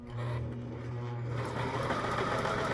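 A previously seized sewing machine with metal gears runs with a loud, continuous mechanical whir that climbs in pitch as it speeds up, with a busy gear clatter throughout.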